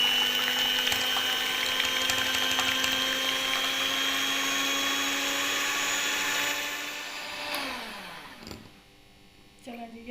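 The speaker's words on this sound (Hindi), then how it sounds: "अब इसे व्हिप करती हूँ" An electric beater whirs steadily as it whips two cups of cream for a cake, a loud motor whine that winds down near the end before a few clatters and near-silence.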